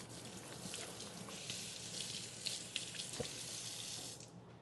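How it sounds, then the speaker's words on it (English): A glass is doused under running tap water at a kitchen sink: a steady close splash and hiss of water for several seconds, with a few small knocks of the glass against the stream, then easing off. "I'm just gonna douse it in some water."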